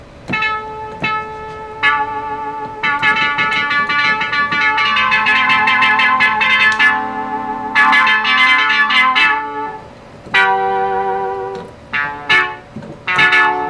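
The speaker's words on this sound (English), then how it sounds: "so that's a fun little organ" Small electronic organ with effects plays bright sustained chords and short stabbed notes, sounding loud and close with pauses between phrases and a few detached notes at the end.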